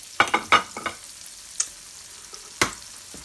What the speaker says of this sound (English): Once your margarine starts to melt, you want to add in a little bit of your fresh salsa.